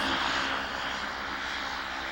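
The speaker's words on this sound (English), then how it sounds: "With the Twin Otter crammed full with hundreds of pounds of whale meat and a film crew plus their equipment, Willie Lazarich was concerned about the takeoff" A de Havilland Twin Otter twin-engine bush plane, heavily loaded with whale meat, a film crew and equipment, roars at takeoff in the Canadian North; a steady, loud engine drone with no talk.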